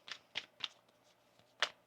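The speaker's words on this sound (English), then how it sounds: "One more shuffle." Tarot cards shuffled in quick riffling bursts, four or five short crisp flurries spaced about a quarter second apart with a pause before the last, close and fairly quiet with no talk.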